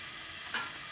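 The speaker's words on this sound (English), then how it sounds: "Into that, I'm just going to put a little bit of coconut oil." Coconut oil melts in a hot pan and sizzles with a steady hiss, with a brief louder crackle partway through.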